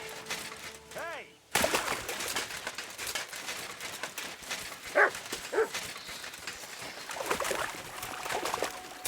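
A dog in Kingdom Come: Deliverance II barks a few times at medium distance over steady game ambience with scattered clatter, after a short burst of game music at the start.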